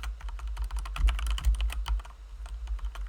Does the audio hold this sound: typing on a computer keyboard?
yes